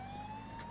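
Police car siren in the GTA 5 video game, a steady wailing tone held throughout over a dense background of game engine and traffic noise, moderately loud with no talk.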